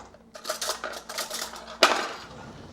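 Chopped cauliflower rice is scooped out of a food processor bowl, giving a quick series of light scraping, clicking knocks of a utensil against the container, ending with one sharper clack, close and fairly quiet.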